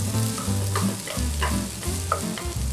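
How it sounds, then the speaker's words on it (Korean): Bell peppers stir-fry in leftover oil for gochu japchae, a dense sizzle broken by rhythmic scraping and tossing strokes from the utensil, close and loud with no talking. "이제 남은 기름에 피망 전부 넣어주고요"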